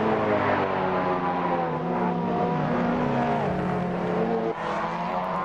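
Toyota touring car racing at Croft in a racing video game, a loud, steady engine drone with shifting harmonic pitch as revs rise and fall, holding dense and close throughout with a brief dip near the end.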